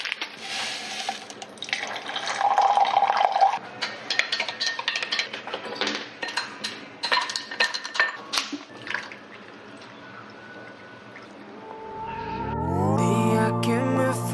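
Coffee is made in a kitchen with water running, liquid pouring and cups and cutlery clattering close by. Near the end a pouring stream rises steadily in pitch as a vessel fills.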